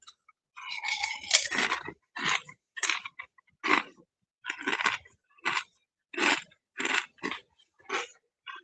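Crunchy plantain chips chewed close up, a run of about a dozen distinct crisp crunching bites in steady rhythm with short pauses between, loud and alone without talk.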